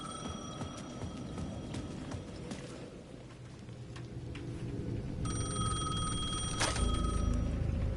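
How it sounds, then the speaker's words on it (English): A payphone rings in the video game Alan Wake 2 with a steady electronic tone, faint at first and then clearer and louder over a rumbling, murky ambient bed. "The payphone at the edge of the plaza was ringing again."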